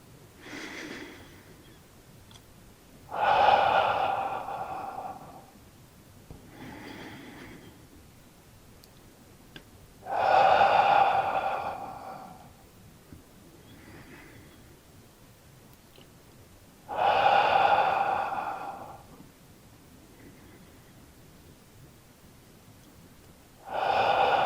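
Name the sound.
deep breathing in and out during tai chi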